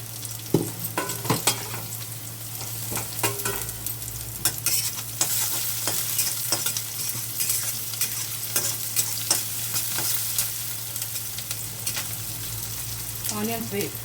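Onions sizzle steadily in a kadai while a spoon stirs and scrapes against the metal in frequent, irregular clacks, with a constant low hum underneath and no talking.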